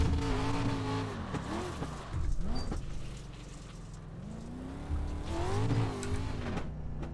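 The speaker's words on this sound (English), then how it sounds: "I was trying to drift it into the pits." A dirt street stock car slides and drifts around a dirt oval in the iRacing game, its engine droning and pitching up and down steadily through the turn.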